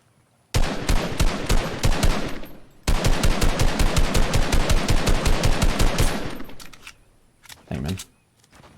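Rapid automatic gunfire rattles in two long, dense bursts during a video game shootout, loud and close, then trails off into scattered single shots and a final short burst.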